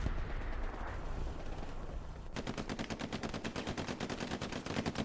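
Rapid gunfire in the Hell Let Loose match on the Foy West Bend map, as a tank crewman bails out and fires a pistol: a dense, loud burst of repeated shots over constant battlefield rumble.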